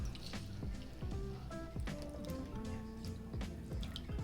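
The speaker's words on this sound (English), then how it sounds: "Oops, poured a little bit too much" Herbal tea of hibiscus, rosehip, chamomile and apple pours into a cup, a soft close trickle with light drips and gurgles running steadily throughout.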